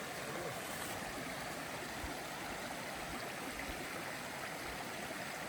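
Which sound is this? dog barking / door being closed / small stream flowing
small stream flowing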